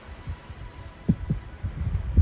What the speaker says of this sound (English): A heartbeat. However, it was extremely slow.